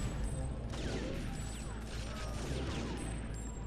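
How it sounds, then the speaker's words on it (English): Dense, rapid automatic gunfire from dual-wielded machine guns in TimeSplitters: Future Perfect. The shots come in a continuous, loud clattering burst with mechanical clanks throughout, and there is no speech. "Alright, dual wielding the machine guns now too"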